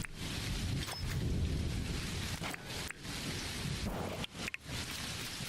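Rain pours steadily during a lightning storm in the Dinkum video game, a dense wash of hiss with low rumbling thunder and several sharp crackling strikes breaking through.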